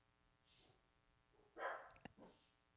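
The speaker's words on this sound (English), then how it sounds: "The dogs are going crazy." Dogs barking faintly in the background, a few short yaps spread over a couple of seconds, one sharper and louder bark standing out, distant and quiet.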